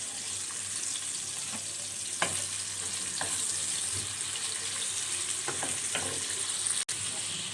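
Onions sauté in hot oil until golden brown, with a steady close sizzle and scattered clicks and scrapes of stirring against the pan.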